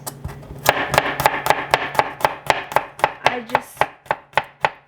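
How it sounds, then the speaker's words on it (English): Knife chopping garlic on a cutting board, a long run of sharp, evenly spaced cuts, loud and close, quickening slightly, with a brief spoken phrase near the start. "So now I'm gonna chop the garlic."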